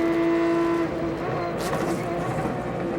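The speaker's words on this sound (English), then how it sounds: "Listen to the downshift RPM." A sports prototype race car in an American Le Mans Series race at Road America in 2003, its engine whining and revving high through downshifts, loud and steady with a broadcast commentary voice over it.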